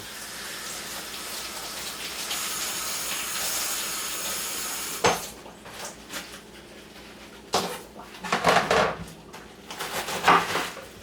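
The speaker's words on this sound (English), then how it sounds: "let me wash this lettuce off" Tap water running in a steady hissing stream while lettuce is washed, then breaking into splashy, irregular gushes as the leaves pass through the flow.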